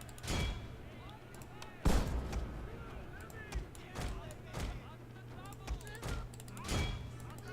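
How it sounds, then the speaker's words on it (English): Repeated musket volleys crack out in Fall of the Samurai, the video game, as a series of sharp booming bursts spaced every second or so over a steady low battlefield hum. "Got off another good volley against our..."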